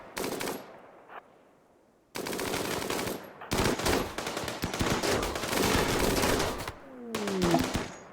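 Gunfire in the video game RimWorld, as raiders swarm a base: rapid automatic bursts rattle off in several long volleys separated by brief gaps, loud and close, with no talking.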